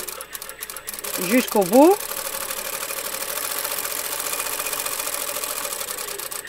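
A sewing machine runs steadily in reverse along a fabric hem, an even, continuous mechanical whir that carries on alone after a speaking voice near the start.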